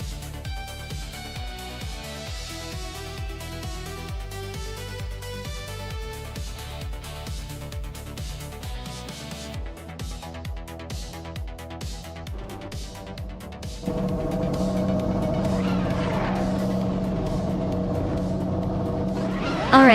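Racing video game cars roar around the Sydney Homebush circuit, a continuous engine drone with shifting pitch and tire squeal, set against a busy musical soundtrack that swells louder partway through.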